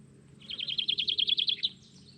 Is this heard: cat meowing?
no